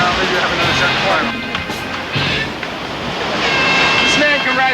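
Surf rolling and breaking at the Hawaiian Pipe Masters contest at Pipeline in 1984, a steady broad wash of ocean waves with wind buffeting the microphone and faint voices mixed in.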